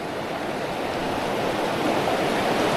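Rushing creek water in the Appalachian mountains roars as a steady, dense wash of noise without pause, loud and close throughout.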